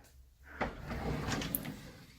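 A kitchen drawer slides open with a short rumbling scrape, followed by a soft rattle of its contents, heard up close in a quiet room.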